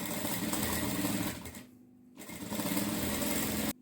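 A sewing machine stitching a pattu saree blouse whirs in a loud, steady mechanical hum, stops briefly for about half a second, then runs again before cutting off abruptly.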